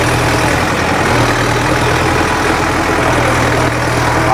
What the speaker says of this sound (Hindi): मैं इतने कीचड़ में पहली दफा ट्रैक्टर चला रहा हूँ।